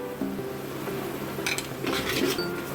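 A spoon scraping and clinking in a cooking pan while turmeric, chili powder and salt are stirred into the masala for a Bengali-style hilsa fish curry. Soft intermittent metallic scrapes and light sizzling, close and fairly quiet.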